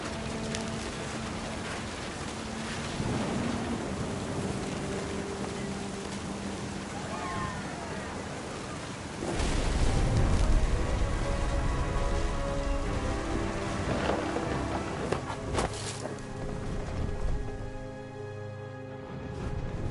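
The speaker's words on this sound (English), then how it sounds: "The thunder sounded much too close and full of angry power." Steady rain in the video game What Remains of Edith Finch hisses throughout, with a deep thunder rumble swelling midway and lingering, under light music and a narrating voice.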